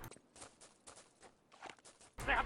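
Footsteps in the video game Enemy Territory: a quiet, steady run of soft steps, followed by a sudden louder burst of noise at the end.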